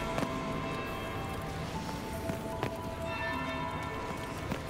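Bell ringing in Dragon Age: Inquisition, with several bright struck tones sounding at intervals over a steady, busy game ambience.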